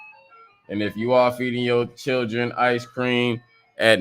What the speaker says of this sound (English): I know y'all hear the ice cream truck